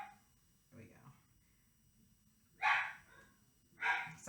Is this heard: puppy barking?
yes